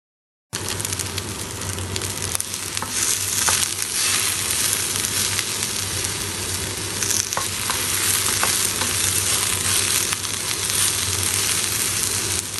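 Okra fries in a hot kadhai and is stirred steadily, giving a continuous loud sizzle with scraping of the spoon against the pan and no talking.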